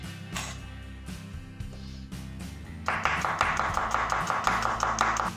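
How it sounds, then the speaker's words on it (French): Kitchen knife finely mincing a green onion on a cutting board for homemade guacamole, starting with a few scattered cuts then settling into a rapid, steady run of close, crisp chopping taps. "je viens l'émincer très finement"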